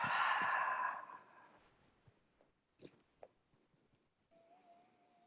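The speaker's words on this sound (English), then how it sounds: "exhale from the mouth" A long, audible exhale through the mouth in a gentle yoga child's pose fades gradually into quiet, followed by a few small soft mouth and breath noises. No one talks.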